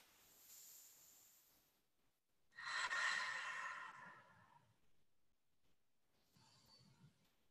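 A slow, deep breath during a yoga session, one long airy exhale that swells and fades after a quiet start, followed by a softer breath near the end.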